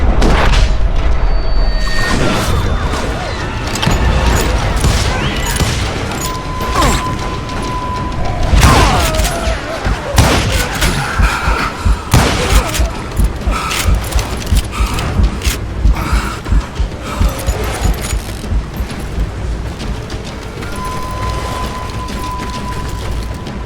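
Gunshots and booming blasts ring out in a Wild West shootout in Call of Juarez Gunslinger, with heavy explosions early on and then a steady run of rhythmic shots over rumbling background.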